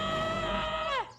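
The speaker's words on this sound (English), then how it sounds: "He wakes up screaming" A man in a spooky TV drama episode wakes from a nightmare with a loud, sustained scream that holds steady, then bends downward and cuts off abruptly.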